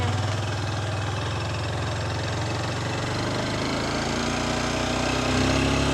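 Honda XR150L motorcycle engine running steadily at close range, a continuous low throbbing drone with a slight shift in pitch toward the end and no talking over it.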